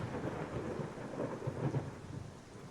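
Thunderstorm with rain in a horror video game set at a dilapidated creek, a dense steady rain hiss under low rolling rumbles of thunder, no voices.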